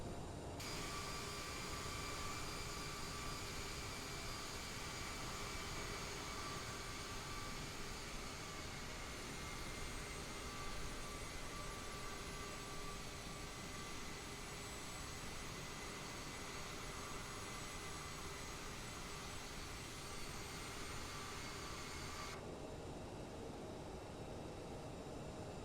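Jet engines of an Aerosoft CRJ airliner spool up on the runway for takeoff in Microsoft Flight Simulator: a continuous, fairly quiet whine and broad rushing roar, with a steady tonal edge that drops away near the end.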